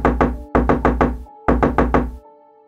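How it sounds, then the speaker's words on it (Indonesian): Hard, heavy pounding on a metal trellis door at night, three bursts of rapid booming knocks separated by short pauses, loud and close, with ringing metallic resonance after each burst. "lagi tidur pintu teralis di gedor-gedor kencang"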